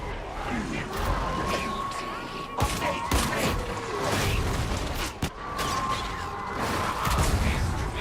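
An arc grenade blast in an online shooter game, heard as a dense burst of crackling detonations and rattling gunfire, loud and busy, with someone talking over parts of it.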